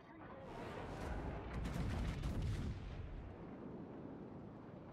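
Warship 100mm guns firing in the video game World of Warships, a dense run of rapid booming shots that rise to a peak midway and then fade into a rumbling tail.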